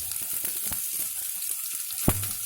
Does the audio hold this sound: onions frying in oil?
yes